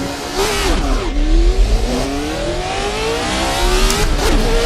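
A classic sports car roars away at a race start on a vintage street track around Napoli, engine loud and close, revving hard and climbing in pitch through rising gears with no turbo sound.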